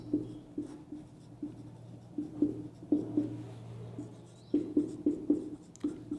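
A teacher writes on a classroom board in a chemistry lesson, the marker or chalk making short tapping and scratching strokes in irregular bursts over a low steady hum, with no talk.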